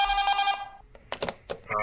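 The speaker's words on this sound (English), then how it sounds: "We got a phone call." A telephone rings in the horror video game Five Faithful Nights at Whitney's, its bright electronic ringtone warbling steadily at first, then breaking into short separate bursts, close and clear with no other sound around it.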